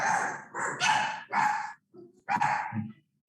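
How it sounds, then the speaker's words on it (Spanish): Several dogs bark in short, irregular bursts with yips and whimpers mixed in, fairly close and clear, with brief gaps of silence between them. "Perritos."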